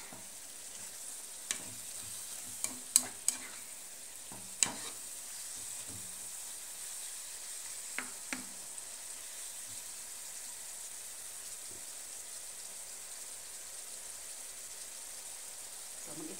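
Soup ingredients sizzle and fry in a pan during home cooking. A steady, soft hiss runs throughout, with a few sharp clicks and scrapes from stirring, and no talking.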